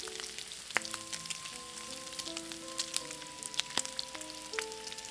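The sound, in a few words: gim-bugak seaweed chips deep-frying in oil in a wok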